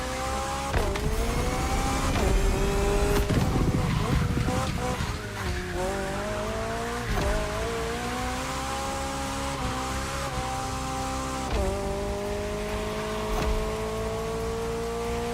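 A car drifts at about 150 km/h in The Crew Motorfest, engine whining in repeated rising pitch sweeps with tyre noise throughout, loud and continuous for the whole stretch.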